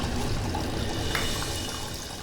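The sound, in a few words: liquid running from a tap (blood instead of water)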